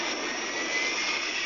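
An F-35B fighter jet's engine roars during a vertical takeoff, a loud, steady, broadband jet rush with a high whine, unbroken and alone for the whole stretch.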